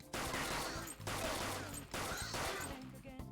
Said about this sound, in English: Point it at a shadow and fire.